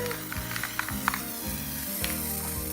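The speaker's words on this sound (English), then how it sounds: "all you have to do is just spray everywhere" Spray adhesive hisses from an aerosol can while a cloud craft is being made, a fairly quiet airy spray with faint clicks and rattles underneath.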